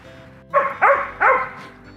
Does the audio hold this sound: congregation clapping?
no